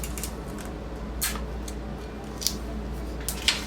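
Scissors snip through dress fabric while darts are sewn, a few separate close cuts with small sharp clicks of the blades over a quiet steady background hum.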